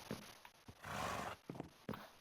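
Minecraft horses mill about in a corral, giving quiet snorts and clops, with one drawn-out whinny in the middle, faint and with no talking.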